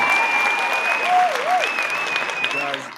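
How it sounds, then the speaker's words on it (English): Audience applause on a live show: a continuous, fairly loud patter of clapping hands fills the clip, with a steady electronic tone and a short sung or whistled wavering note heard over it. "I want to give you a big round of applause."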